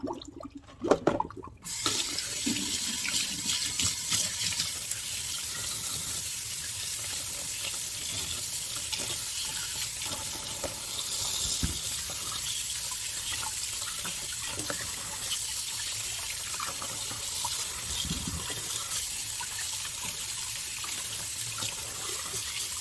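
Tap water runs steadily into a kitchen sink while jalapenos and other vegetables are rinsed for pickling, a loud continuous rushing spray heard alone with no speech.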